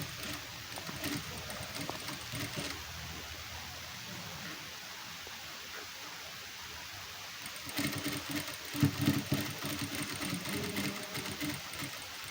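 Sewing machine stitching a hook-and-loop strip onto a blouse: a steady mechanical whirr of fast stitching runs in stretches, pausing briefly in the middle before resuming louder with some handling knocks.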